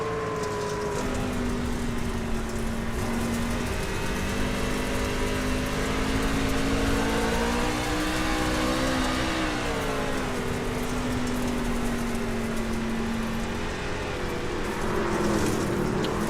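Race truck engines in an iRacing video game at the Eldora dirt track drone in a loud, continuous whine, their pitch rising and falling together as the trucks are driven hard through the laps.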